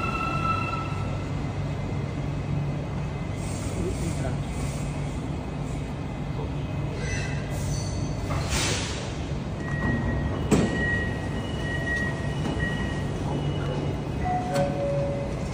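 At Putrajaya MRT station, a metro train rumbles steadily nearby with rising and falling electric motor tones and a few brief whines and clunks. Doors and platform noise are heard, with faint voices in the background.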